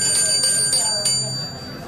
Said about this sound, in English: Oh my God, our drinking bell.